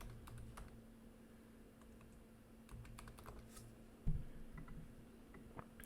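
Steady typing on a computer keyboard, a quick run of light clicks and taps close by with one firmer knock partway through, over a faint room hum.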